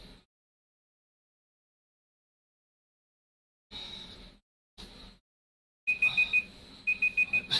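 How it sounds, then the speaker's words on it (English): A workout rest timer alarm sounds in a quiet room, starting with a few isolated bursts and then settling into fast, repeated electronic beeping, fairly soft and with no one talking. "That's my timer, that's my rest timer."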